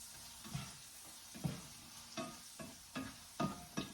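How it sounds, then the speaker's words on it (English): Buttered bananas are stirred in a frying pan beside browning panettone French toast, with a soft, steady sizzle under about seven faint, rhythmic scraping strokes. "now we're going to mix these bananas in."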